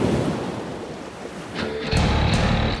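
Ocean surf breaking along a rugged coastline, a steady wash of roaring water that swells into a louder crashing wave near the end, with no voices.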